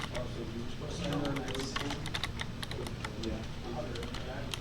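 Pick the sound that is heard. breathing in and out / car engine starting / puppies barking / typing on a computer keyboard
typing on a computer keyboard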